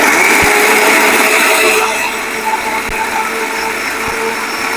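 Kitchen mixer grinder blending cumin seeds and other ingredients for a Karnataka-style ash gourd majjige huli, a loud steady whirring grind that eases slightly partway through.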